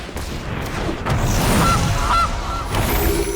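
A digital goose honks in Magic: The Gathering Arena as the card is played, a short nasal call mid-clip over low game thumps and effects.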